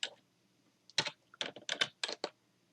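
Several quick bursts of keystrokes on a computer keyboard, clicking in short clusters with brief pauses between, close and clear against a quiet background.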